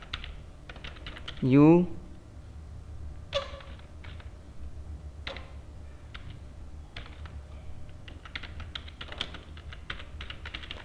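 Bursts of computer keyboard typing while Java code is written, scattered clusters of quick clicks with pauses between them and a short spoken word early on.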